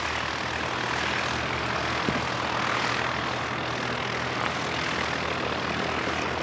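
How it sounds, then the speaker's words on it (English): A Diamond DA-42 Twin Star twin-engine propeller plane drones steadily and fairly close, its broad engine and prop noise holding even for several seconds with no talk. "It's a Diamond DA-42 Twin Star"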